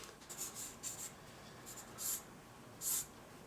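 A pencil sketching a lion on paper, soft scratchy strokes coming in short bursts with pauses between them, faint and close against a quiet room hiss.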